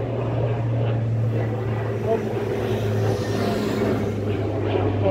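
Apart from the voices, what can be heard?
airplanes flying over Toulouse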